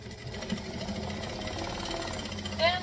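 A sewing machine runs steadily while stitching and back stitching fabric, a continuous close mechanical whir with a rhythmic patter of the needle, a brief higher whine near the end, and a voice talking over it.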